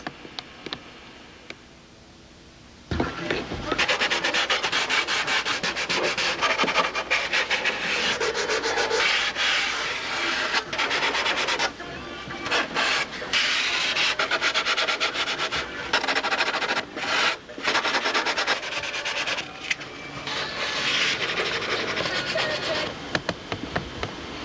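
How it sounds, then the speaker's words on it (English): A piece of 320 grit sandpaper rubs by hand over wood in fast, steady back-and-forth strokes, loud and close, starting after a brief quiet moment and continuing with only short pauses. "What I'm going to do is just final sand this out now with a piece of 320"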